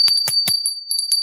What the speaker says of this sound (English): we're going to invite the Fae to bless this podcast with this fairy bell